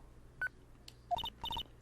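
Phone dialing tones in the Phoenix Wright video game, a short sequence of electronic keypad beeps in quick bursts, a single tone then two clusters of three, clear and alone.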